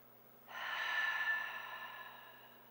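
A single deep, slow breath during a morning yoga flow, a close, soft airy exhale that swells after a quiet start and fades gently over about two seconds.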